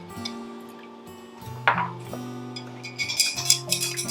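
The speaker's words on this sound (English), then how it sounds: "Give that a little stir." A spoon stirs an apple pie moonshine drink in a glass, giving a few bright clinks and taps against the glass amid a quiet background hum, growing busier toward the end.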